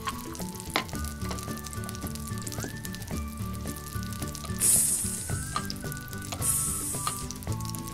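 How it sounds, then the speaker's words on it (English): Soft crackling sizzle, like food frying in a pan, comes from a toy pan cooking a play patty, running throughout with faint clicks and scraping; two brief brighter hissing bursts rise midway. "Can you hear that sizzle?"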